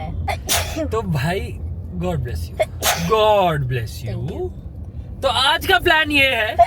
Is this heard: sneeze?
yes